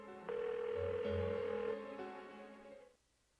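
A phone in the Persona 4 video game rings unanswered, a steady electronic ring tone that holds for a couple of seconds, changes pitch partway and then cuts off into near silence.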